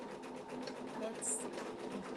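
An embroidery machine stitches out a mug rug with a steady, rhythmic mechanical whir and fast needle patter. It sits at moderate loudness and stays continuous throughout.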